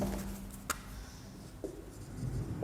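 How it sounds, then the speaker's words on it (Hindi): Chalk or marker scratches across a classroom board in short strokes, quiet and close, with a couple of sharp taps as the writing tool meets the surface; no speech. "मैं इसको थोड़ा अच्छे से लिख देता हूँ"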